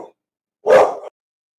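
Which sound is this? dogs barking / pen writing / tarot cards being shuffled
dogs barking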